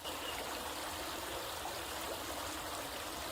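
A creek flowing steadily over stones, a continuous close rushing and trickling of water that stays even throughout with no voices.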